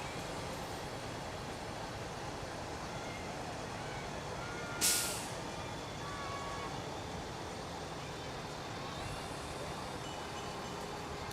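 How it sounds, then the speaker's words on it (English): A truck rolls past in an outdoor Christmas parade, a steady broad rumble with a short sharp hiss of air brakes midway, fairly loud and continuous with no talk. "That's the truck."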